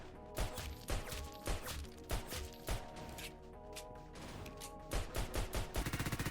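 Bursts of gunfire from a Roblox shooter game, including a heavy minigun, sound as rapid clustered shots and crashes over a steady music bed, ending in a fast rattling volley.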